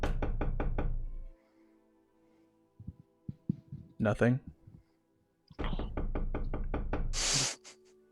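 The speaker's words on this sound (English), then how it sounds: "want to go knock on her door." Knocking on a door, two sets of a few spaced wooden raps, quiet and fairly close, between stretches of people talking.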